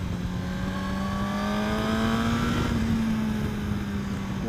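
A superbike engine holding a steady, smooth drone through a corner, a sustained tone with only a slight rise and fall and no voices over it.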